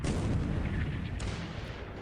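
A warship's main gun fires in a naval video game, a heavy, booming blast that fills the low end and rolls on as a dense rumble, with a second sharp report partway through.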